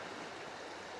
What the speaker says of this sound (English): Yeah, it might be the Rejoin River.